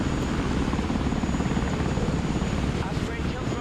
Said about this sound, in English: Osprey tiltrotor aircraft here. Heavy lift here. Flying to coordinates.